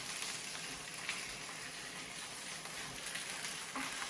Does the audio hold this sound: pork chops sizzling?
yes